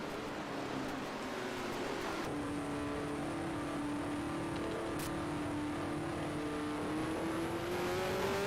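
A field of race cars accelerating at the green flag in a racing video game recreating the 1974 USAC California 500, a steady droning engine roar rising in pitch as the pack builds speed.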